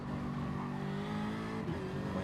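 BMW M3 race cars lapping Brands Hatch in a racing video game, a steady, loud engine drone with layered harmonic tones and a brief shift in pitch near the end, with no voices.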